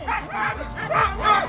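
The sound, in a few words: sled dogs barking before a race start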